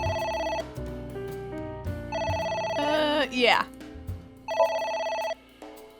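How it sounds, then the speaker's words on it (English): A phone rings in the detective adventure game AI: The Somnium Files, its bright electronic ring repeating in three bursts, loud and close, with a player talking over it. "Phone call? A phone."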